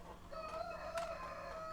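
Roosters crowing amid hens on a quiet farmyard: one long, drawn-out crow rises and holds with strong harmonics, moderately near and fairly faint, over a low steady background.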